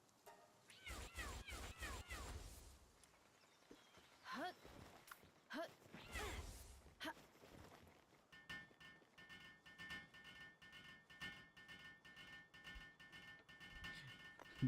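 Helper cats in Palworld meow repeatedly, a string of clear game cat calls over busy game sounds and footsteps, with rhythmic clatter later on.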